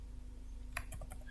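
A few quick clicks of computer keyboard keys ending on a press of the Enter key, faint and close over a low electrical hum, with no talking.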